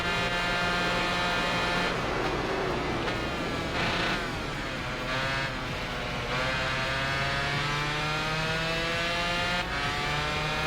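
A 2-stroke racing motorcycle in the Tourist Trophy video game screams through gear shifts, its loud, buzzy engine note rising and dipping repeatedly as it accelerates hard, steady and close without any voices.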